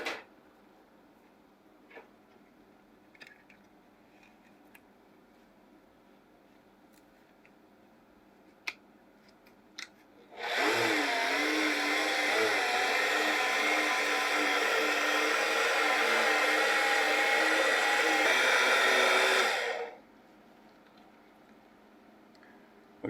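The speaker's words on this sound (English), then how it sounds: "I take my 2 cups of brine, add it to my mix, and I'll start to blend again" A blender whirs loudly for about nine seconds, mixing a fermented chocolate reaper pepper mash with brine, after quiet kitchen clicks and taps, then cuts off abruptly.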